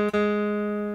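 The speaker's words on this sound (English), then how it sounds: "If you want to, you could take your pick and just pluck the third string" Third string of a guitar plucked once with a pick at the first fret, giving one clear note that rings on steadily and slowly fades, alone and close.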